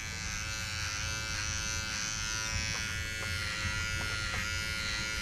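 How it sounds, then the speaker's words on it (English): Electric clippers shave the wool high on a wether's body for banding, a steady close-up motor buzz that hums continuously, with faint scratchy snips as the blades work, no talking. "because I have these awesome clippers that I want a reason to use, I'm going to just gonna shave up high where that band is gonna be"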